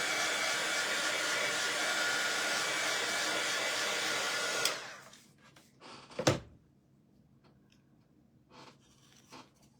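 A hair dryer blowing loudly and steadily while drying paint on a small painted strawberry, then cutting off abruptly, followed by a few faint handling knocks and rustles.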